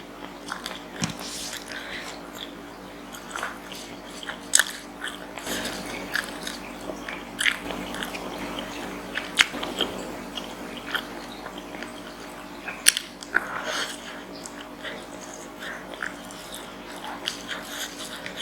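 Close, wet chewing and biting of spicy green-chili beef ribs (iga penyet), the meat slightly tough, with irregular crunchy bites and smacking over a low background hum; no talk.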